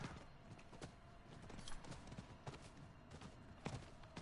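A horse being ridden in Diablo 4 clip-clops along in a quick, uneven hoof rhythm, faint and somewhat distant, with scattered sharper strikes.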